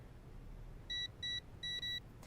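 Four short, clean electronic beeps from a safe's combination keypad, evenly spaced with a slight gap before the last pair, quiet and close over a faint low hum.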